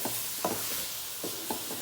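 Saag being stirred and mashed with added tomatoes in a pan, soft wet squelching strokes repeating at an uneven pace, close and fairly quiet with a faint sizzle underneath.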